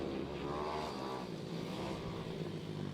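Ohvale 160 mini bikes race on a circuit with a buzzing, fairly faint blur of small engines rising and falling as the field streams by at a distance.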